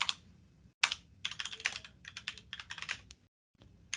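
Typing a script on a computer keyboard: close, quick bursts of clicking keystrokes with short pauses between runs, moderately loud, with no voices.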